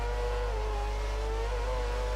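F1 race car engines in the F1 2013 game, a loud sustained high-pitched whine with shifting revs as cars launch from the start, steady and close with no voices.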